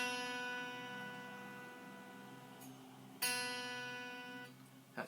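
A single B note sounds on a homemade lap steel guitar in open G tuning, ringing and slowly decaying, then plucked again for a second fading ring, close and alone.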